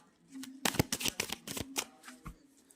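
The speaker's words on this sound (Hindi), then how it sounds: "एक बार शफल कर लेते हैं कार्ड्स को" A deck of playing cards being shuffled, a quick rapid burst of crisp riffling flutters and snaps, close and clear, followed by a few softer taps as the cards settle, with no talk over it.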